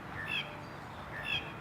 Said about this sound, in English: These, I call them city birds.